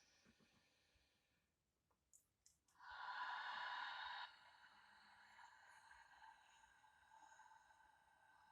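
A slow pranayama breath, drawn in gently and then released as a sustained, hissing, throaty exhale that swells for about a second before easing into a faint breathy tail; no talking.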